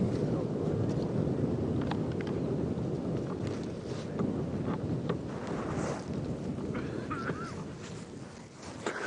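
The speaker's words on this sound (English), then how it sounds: "good strong wind" Strong wind buffets the microphone on an open savanna under cloud cover, a steady loud low roar filling the whole scene with gusts swelling and easing, plus faint scattered rustles.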